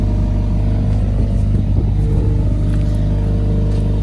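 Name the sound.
Mercedes GLA45S AMG exhaust revving with valves open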